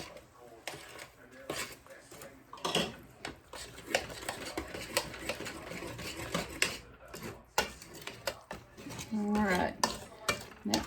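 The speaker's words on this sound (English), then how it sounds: "We're just going to put this all together and give it a really good mixing" Stirring pork cracklings into cornbread batter in a mixing bowl, the spoon scraping and clacking steadily against the bowl at close range, with a voice talking intermittently over the mixing.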